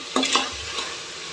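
A spoon stirs green peas into vegetables sautéing in a pan for kuthiraivali (barnyard millet) pulao, giving a couple of quick scraping strokes over a steady soft sizzle, close and fairly loud.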